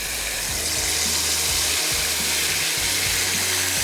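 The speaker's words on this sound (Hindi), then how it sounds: "ऑयल हमने थोड़ा सा गर्म करना है, उसमें प्याज का और टमाटर का पेस्ट" Onion and tomato paste frying in hot oil, a steady loud sizzle and crackle close up, joined by low rhythmic mechanical clicking underneath.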